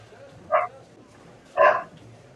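Two separate dog barks, a second apart, moderately close indoors over a faint low background hum, with no talking in between.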